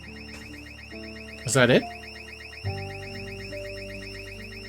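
An alarm in the zombie survival game Project Zomboid keeps up a steady high warbling wail while someone briefly speaks over it.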